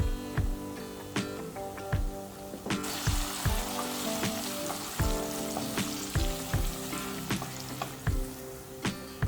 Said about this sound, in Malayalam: ഇനി അതിലേക്ക് കുറച്ച് നമുക്ക് കറിവേപ്പില ഒന്ന് ആഡ് ചെയ്ത് കൊടുക്കാം